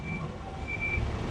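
Two large trucks rumbling past on a nearby road in hot weather, a low heavy drone with a faint high tonal beep over it, brief and steady.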